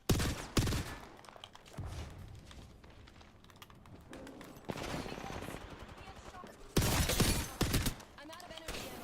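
Video game gunfire in Apex Legends on the World's Edge map, in ranked play on PS5: loud, sharp bursts of rapid shots at the start, again near the middle and in a heavy cluster toward the end, with quieter game ambience between volleys.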